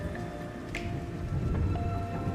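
Steady rain falls in an animated Hindi story, a constant wash of drizzle with a few faint brighter drops on top and no voices.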